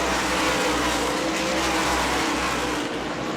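Race cars roar around the New Smyrna track, with loud, continuous engine noise that swells and dips as the cars pass close by.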